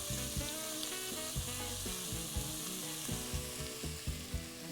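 Vegetables being seasoned and stirred in a hot pan for a Louisiana hushpuppy dressing make a steady, close sizzle over low rhythmic background tones, with no voices.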